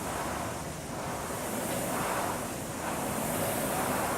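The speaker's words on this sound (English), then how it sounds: "So hopefully you guys can hear us over the flywheel." A rowing machine flywheel whirs steadily through a stroke, a broad, continuous rushing hum that swells slightly as the pull builds, loud and close with no voices over it.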